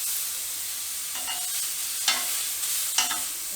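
Pork souvlaki skewers sizzle steadily on a barbecue grill while metal tongs turn them, giving a few sharp clicks and scrapes over the constant hiss.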